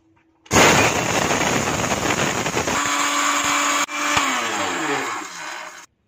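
An electric grinder roars loud and continuous as it mills dry rice into powder, then shifts to a steadier whine before stopping abruptly.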